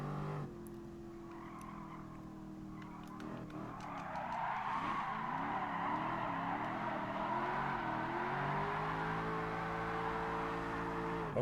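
Tires squeal loudly as a car drifts in Gran Turismo Sport, a sustained skid over a droning engine whose pitch wavers and climbs as the slide continues.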